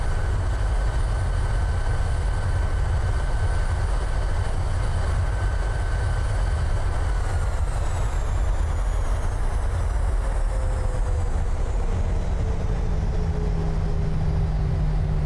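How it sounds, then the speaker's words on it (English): Reverse thrust roaring on a Southwest Boeing 737 landing in Microsoft Flight Simulator 2020, a steady, loud broadband rumble with thin whining engine tones that slowly drop in pitch. "It's that reverse thrust."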